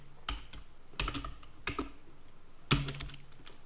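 Code being typed on a computer keyboard, with short separate clusters of key clacks and pauses between them, close and fairly quiet.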